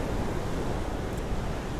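Large, powerful ocean waves around 2.5 meters high roar as a continuous dense wash of surf, with wind buffeting the microphone throughout.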